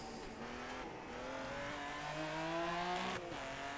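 A BMW race car engine in the racing game Rennsport, revving steadily and climbing through the gears with a clear rising drone, up close and loud with no talk.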